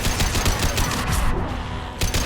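Rapid, dense gunfire from the Mass Effect 2 Legendary Edition shooter, with a fast rattle of close automatic shots that runs without a break under steady battle noise.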